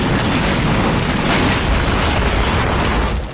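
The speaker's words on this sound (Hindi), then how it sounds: "इजरायली वायुसेना दक्षिण गाजा में हमास के ठिकानों पर बमबारी कर रही है।" Israeli air strikes hit Hamas positions around Khan Younis in southern Gaza, producing loud, continuous rumbling booms and blasts that overlap with no pause.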